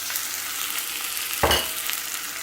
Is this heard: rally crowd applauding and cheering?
no